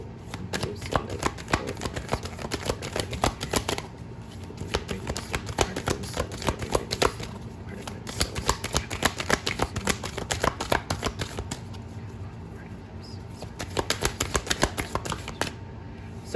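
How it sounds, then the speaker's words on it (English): Oracle cards are shuffled by hand in repeated bursts of crisp riffling and slapping, close and clear, with short pauses between rounds. "let me pull some oracle cards, just to back up the tarot cards"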